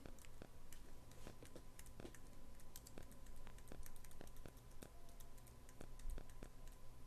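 Computer keyboard keys are pressed in quick, irregular clicks during a game, fairly quiet and close, with short clusters of taps and brief gaps, no talking.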